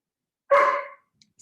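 A chocolate Labrador with some husky mix gives a single loud, close bark that fades into quiet, with a couple of faint ticks afterward.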